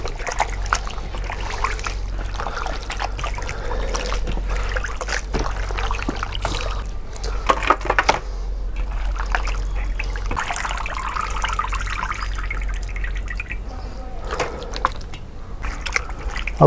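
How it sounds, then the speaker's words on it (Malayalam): Cut mutton pieces being washed by hand in a bowl of water for a Kerala-style curry, with steady sloshing, dripping and trickling, close and continuous throughout. "ഇത് 1-3-4 തവണ നമുക്ക് കഴുകിയെടുക്കണം വൃത്തിയായിട്ട്"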